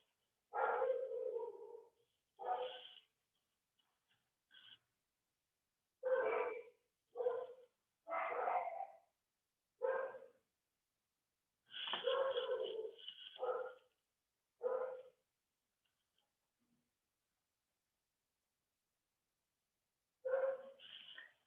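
Dogs bark indoors in separate bursts, a dozen or so sharp barks spread irregularly with quiet gaps, somewhat distant and thin.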